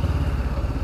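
A small Honda CBR500R motorcycle engine runs with a steady, close, low rumble throughout the brief moment, with no talk over it.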